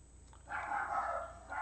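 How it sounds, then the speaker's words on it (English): A pet dog in a home barks a short series of muffled yips from another room, fairly faint and distant, in a quiet indoor setting with no talk. "My doggy's barking."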